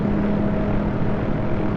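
Steady turbine drone of a Hughes OH-6A helicopter in the DCS flight simulator, a continuous whine with a low hum. The sound holds even and loud throughout, with no talk.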